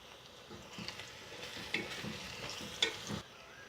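Green chilies fry in hot oil with golden-brown onions for a biryani, giving a moderate sizzle broken by scraping stirs and a few sharp clinks of a utensil against the pot.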